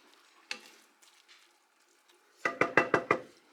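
A spoon working through a cheesy broccoli and rice casserole mixture in a pot: a few scattered soft scrapes, then a quick run of five sharp stirring knocks close by.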